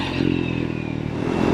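Triumph Scrambler 400X motorcycle with a 40-horsepower engine riding along, a steady close engine drone with rumble and clatter throughout a short stretch, no talk.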